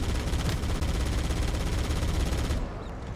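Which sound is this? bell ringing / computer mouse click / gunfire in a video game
gunfire in a video game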